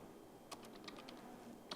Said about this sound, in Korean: 마우스 하지 마시고 키보드 좌우 방향키를 눌러서 커서를 이동해요